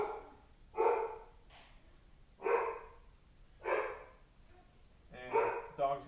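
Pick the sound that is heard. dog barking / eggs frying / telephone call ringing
dog barking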